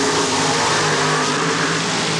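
Mud racing cars launch side by side off the line at TNT Raceway Park in 1994, a blower motor against a carbureted nitrous oxide machine. Their engines roar loud, dense and continuous, close by.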